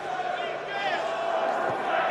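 An arena crowd cheers and chants for Mirko Cro Cop at a fight event, a steady wash of distant voices with a sustained chanting tone running through it.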